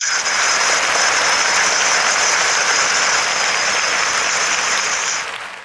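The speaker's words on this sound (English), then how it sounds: "Let's give me some motherfucking applause for bro." Loud, steady applause from a podcast audience welcoming a guest, a dense wash of clapping with a bright whistle-like tone held over it for about five seconds before it tapers.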